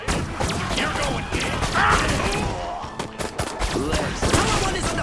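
Dense gunfire in the Destroy All Humans video game: rapid bursts and shots layered over explosions and crashes, loud and continuous throughout, with game voices talking underneath.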